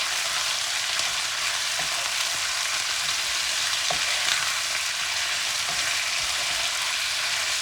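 Chicken and onions frying in a pan for a homemade chicken curry, a steady close broadband sizzle with faint stirring scrapes and occasional soft clicks throughout.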